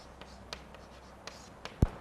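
Chalk or marker strokes on a board during a scientific computing lecture, a few short scratchy taps and swipes spread over two seconds, ending in one louder knock, quiet room with no talking.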